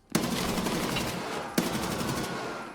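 Two sharp bursts of automatic gunfire in the video game Escape from Tarkov, each a loud rapid volley, the first about a second and a half long and the second trailing off.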